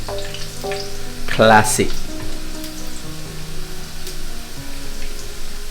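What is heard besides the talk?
garlic and ginger frying in a pan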